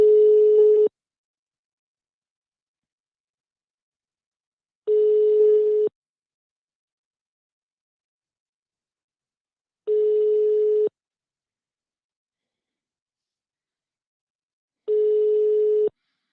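Telephone ringback tone pulses four times, each one-second tone followed by about four seconds of silence, clear and steady with no answer.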